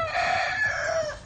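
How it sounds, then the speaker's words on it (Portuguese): A rooster crows at daybreak on a cattle farm, one long drawn-out call that rings clear and close and fills the whole moment. "Tá clareando o dia e o galo faz a cantoria."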